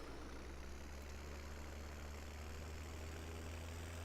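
Hurlimann tractor engine idling steadily in Farming Simulator 17, a constant low droning rumble held at moderate level throughout with no talking.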